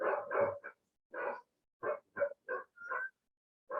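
Several short barks from dogs outside a house come in a choppy series, each bark brief and distinct with small gaps between them.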